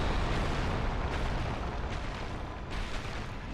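An explosion in the video game Dark Souls during the Bed of Chaos boss fight, heard as a dense, sustained roaring rumble that stays loud throughout with no speech over it.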